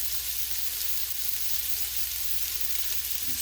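Burger buns toast in a hot pan beside smash brisket burgers, giving a steady, even sizzle and frying hiss with no talk over it.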